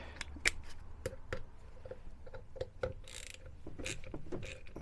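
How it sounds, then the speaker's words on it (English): Close ratchet clicks in short irregular bursts while thread-locked bolts come off a Triumph Bonneville brake assembly, sharp metallic ticks over a quiet workshop background with no talk. "Better off with the ratchet, I think."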